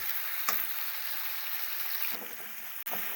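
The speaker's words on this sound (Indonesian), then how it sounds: "Udangnya kita goreng sampai warnanya berubah ke kuning-kuningan." Shrimp fry in hot oil in a pan with a steady, even sizzle, broken by a few soft clicks from stirring.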